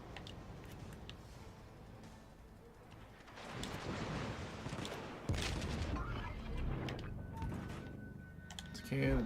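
Ship gunfire in the naval video game World of Warships: Legends, with heavy rumbling salvos swelling in bursts over a constant roar of battle noise, growing louder toward the end.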